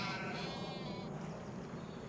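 Sheep and lambs on a Farming Simulator 25 farm bleat, a close wavering bleat followed by softer background bleating.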